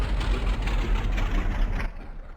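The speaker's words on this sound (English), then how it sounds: "Coming to stop, and there we are. The other side, we'll shut the engine down." King Air 350 turboprop in the Aerofly FS 4 flight simulator shutting down after taxiing to a stop near the Hoover Dam: a steady broadband engine roar with a high whine that slides downward and fades out near the end.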